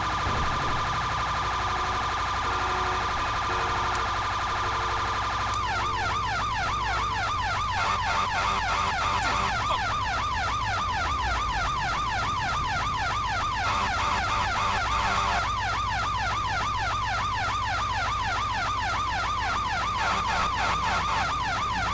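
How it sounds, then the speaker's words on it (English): Siren of an emergency vehicle in the GTA V roleplay game, loud and continuous, starting with a steady tone then switching to a fast, rapidly warbling wail that runs on alone. "No respect for emergency vehicles, I see."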